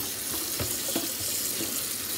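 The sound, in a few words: noodles in a colander rinsed under cold tap water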